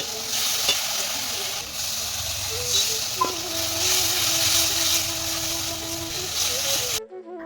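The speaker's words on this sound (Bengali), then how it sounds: "শুধু বেগুন দিয়ে এই মাছটা রান্না করব" Fish and eggplant sizzling and frying in a pan, a steady close hiss with occasional stirring clinks and scrapes, ending abruptly.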